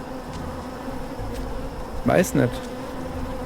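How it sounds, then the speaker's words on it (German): Bees swarm in the island video game Submerged with a low, continuous drone that swells into two louder, closer buzzing bursts near the end, while a voice speaks briefly. "Oh, da sind die ganzen Bienen."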